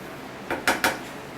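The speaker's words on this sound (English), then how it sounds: "I'm going to do 3 full scoops of activated alumina" Activated alumina granules scooped up for a rocket stove: three quick, gritty scrapes and rattles in close succession, close and clear.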